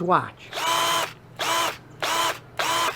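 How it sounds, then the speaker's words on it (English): A 20-volt lithium power drill whirs in four short high-pitched bursts with brief pauses between, loud and close, and a voice speaks one word at the start. "I have tried out literally dozens of these power drills"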